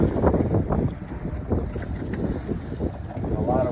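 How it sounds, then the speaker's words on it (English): Strong wind buffets the microphone aboard a fishing boat in rough seas, a loud gusty rumble with engine and water noise underneath and a few faint bits of voice. "The wind is unbearable"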